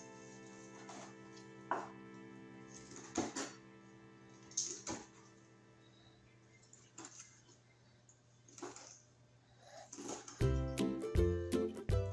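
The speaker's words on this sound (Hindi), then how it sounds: "अब हमने इन फिलेट्स को काट लेना है इस साइज में।" Knife slicing through cooked chicken fillets on a board for peri peri shawarma, giving a handful of sharp, spaced cuts over a steady kitchen hum, then a faster burst of chopping at the end.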